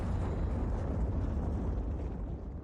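A bomb explodes in the video game CS:GO during an Epicenter 2019 match on the Train map, a loud, heavy, low rumbling blast that holds steady and then begins to fade.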